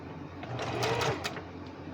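A sewing machine stitches a curved seam in a short, fast mechanical burst of needle clatter, heard up close with a quiet background hum.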